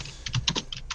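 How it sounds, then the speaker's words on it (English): Quick run of keystrokes on a computer keyboard, several close crisp clicks packed into about a second, heard alone without talk. "Somebody's typing."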